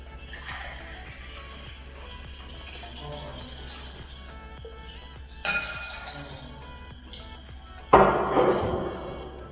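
Ice clinks and clatters in a glass as vodka is poured for a Joe Collins cocktail, a few sharp bright strikes rising above a low steady hum, the loudest rattle near the end.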